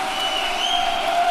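A 3,000-person audience at a live Sam Harris vs Jordan Peterson event in Vancouver roars in a steady, loud, unbroken wash of crowd noise.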